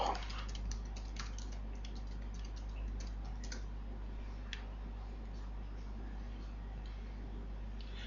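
Quiet, close typing on a computer keyboard while working in an Oracle database, a run of light key clicks over a steady hum that thins out partway through.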